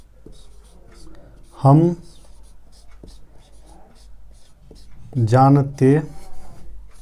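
Pen or chalk writing by hand during a Class 10 math lesson, a close, steady scratching with small taps and strokes, interrupted by two short bursts of someone speaking.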